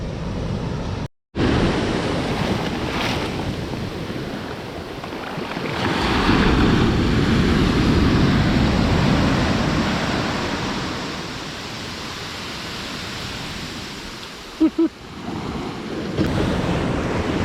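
Ocean swell rolls onto a sandy beach on São Miguel, a continuous loud wash of surf with rising and falling waves and wind buffeting the microphone.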